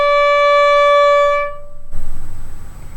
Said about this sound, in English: For the note D,